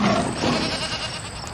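A goat bleats in a short, loud cry that wavers and trails off, filling the moment in a narrated folk tale about a leopard and a pangolin.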